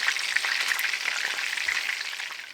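Food fries in a pan with a dense, steady crackling sizzle, close and continuous, with small pops scattered through it and no voices.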